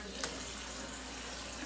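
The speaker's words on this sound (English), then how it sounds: "I'm going to add a little bit of water right now." Water pours steadily into a pot of veggie soup with ground beef, sausage and chicken thighs, a close, continuous rushing splash with no break for nearly two seconds.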